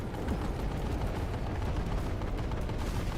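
Sustained heavy gunfire in PlanetSide 2, fired at an aircraft, a dense continuous roar of rapid shots with booming low end and no pauses.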